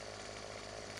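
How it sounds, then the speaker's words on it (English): A chainsaw in a farming video game, a steady, buzzing engine drone held at constant pitch and level, near and continuous throughout the short stretch. "so let's break out the chainsaw"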